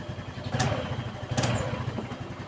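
A Yamaha NMAX scooter engine idles steadily, its low, even putter broken by two brief revving surges, heard close up and alone.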